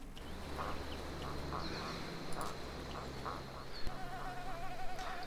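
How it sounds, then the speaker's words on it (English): Mosquitoes buzz steadily in a swampy outdoor area in Neverwinter Nights 2, a whining drone with faint intermittent background calls and no talking. "I guess it's back to the mosquitoes again"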